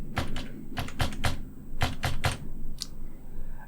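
Number keys pressed on a computer keyboard, a close, crisp series of separate clicks in small uneven clusters with short pauses between, with no talk over them.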